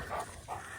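Benny, a forest dog, gives two short barks about a third of a second apart, close by and moderately loud over a low outdoor rumble.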